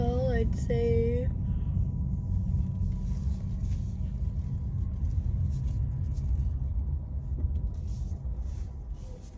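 A car idling near a gym, a steady low engine rumble running throughout, with a brief higher tonal sound at the very start.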